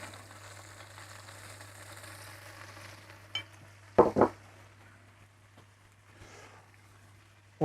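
Soft, continuous sizzling as butter is basted over a turkey cooking in a Fornetto Basso smoker, quiet and close, broken by a few sharp clatters and brief knocks midway.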